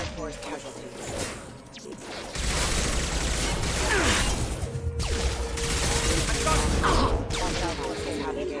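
Bursts of rapid gunfire and heavy impacts fill a loud Mass Effect 2 firefight, sustained and dense, with clattering mechanical hits and brief voice chatter mixed in.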